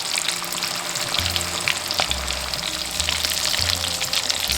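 Aloo tikki potato cutlets sizzle steadily as they fry in a pan, a continuous bright crackle with occasional pops and low rumbling under it, fairly close and alone without talk.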